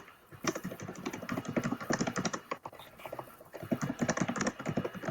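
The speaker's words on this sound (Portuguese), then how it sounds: "quem é que está digitando aí rápido desse jeito?" Rapid, continuous typing on a computer keyboard, dense clattering keystrokes running throughout at close range with a brief pause midway, no voices.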